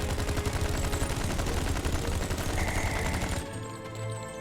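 A Thompson submachine gun fires in Star Trek Online, a rapid, loud, continuous stream of shots lasting a few seconds before cutting off into quieter game sounds.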